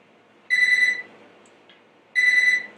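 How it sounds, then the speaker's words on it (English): A kitchen-style timer alarm sounds two loud, shrill electronic beeps about a second and a half apart, over quiet room tone. "Sorry, that was my timer."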